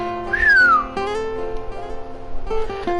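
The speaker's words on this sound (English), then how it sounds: "Hayuri whistles." Hayuri gives a short whistle, a single rising-then-falling tone near the start, alone and fairly close.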